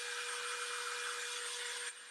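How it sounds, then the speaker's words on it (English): A hair dryer blows steadily and loudly over a craft project, a broad continuous whoosh that drops slightly in level just before the end. "I am just going to very quickly hit this with the dryer just to make sure everything's dry"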